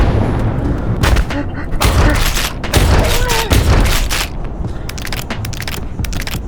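Gunshots in the video game Urge, a burst of loud, sharp reports in quick succession, with further shots spread across the stretch and game noise between them.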